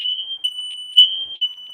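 A smoke alarm beeps in one steady, loud, high-pitched tone that holds for nearly two seconds. It swells in brief pulses, with no voices.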